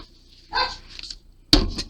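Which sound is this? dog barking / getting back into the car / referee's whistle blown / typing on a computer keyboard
dog barking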